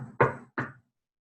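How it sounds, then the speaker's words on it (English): Two firm knocks on a door, close and distinct, the second slightly softer, followed by silence. "If you knock on his door,"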